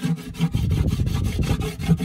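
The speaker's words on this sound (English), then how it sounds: "So you take that Propolis, you rub it on the inside," Propolis rubbed onto the inner walls of a wooden bait box with cut cracks, a steady rhythmic scraping stroke repeated several times per second, close and continuous.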